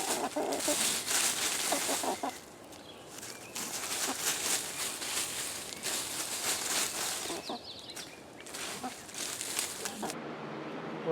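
Chickens in their chicken run, with clucking and scratchy farmyard bustle that comes in bursts over steady outdoor noise, close by and without talk.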